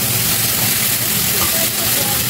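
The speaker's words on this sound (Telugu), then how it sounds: "ఎల్లో క్యాప్సికమ్, ఇవి కొంచెం వేగినాయి కదా." Yellow capsicum and other vegetables for Italian pasta fry in a pan, giving a steady close hiss and sizzle that runs unbroken throughout, with no voices.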